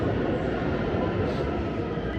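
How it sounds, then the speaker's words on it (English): A public-transit train in Tehran, Iran rumbles along with a steady, dense rolling roar of wheels on rails from inside the carriage. "A train, public transit."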